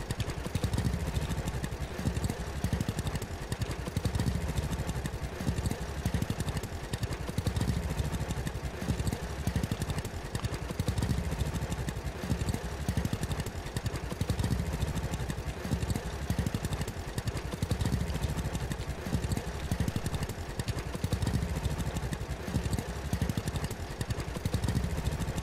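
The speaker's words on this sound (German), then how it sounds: "Da wird der Motor ganz heiß." A farm vehicle engine runs steadily in the video game Farmer's Dynasty, a continuous chugging mid-range drone with a rattling pulse that stays constant throughout and is heard alone.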